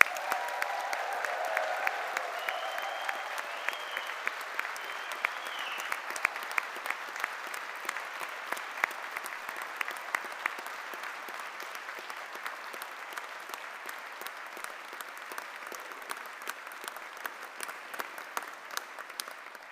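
A large graduation ceremony audience at the University of Strathclyde applauding the engineering class of 2026, with sustained, dense clapping from many hands that holds steady throughout and a few murmured voices underneath.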